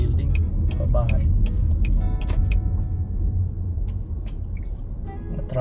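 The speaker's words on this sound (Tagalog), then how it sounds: "Na traffic yata guys." Road traffic around the Klondike Days fair in Edmonton, a steady low rumble of cars with occasional ticks and brighter passing noises, close and continuous.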